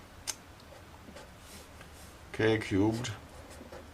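Faint scratching and light ticks of writing on a board in a quiet room, with someone briefly talking partway through.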